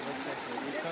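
Creek water at the Patterson-Gimlin film site runs in a steady, soft broadband rush, faint and continuous with no pauses or other sounds.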